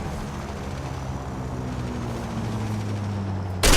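Propeller plane engine in the War Thunder combat flight game, a steady droning hum with a slowly shifting pitch, followed by a sudden loud burst at the very end.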